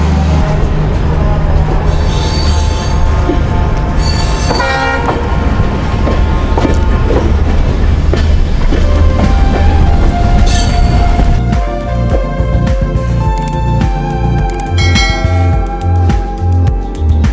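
Jan Shatabdi Express train rolling along the rails, a loud steady rumble of wagons with rhythmic wheel clatter and occasional squeal, continuous throughout with no talk.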